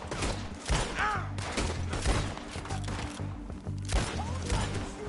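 Scattered gunshots pop at moderate, fairly faint level during a firefight in the video game Red Dead Redemption 2, mixed with thuds and background game noise, with brief voices in between.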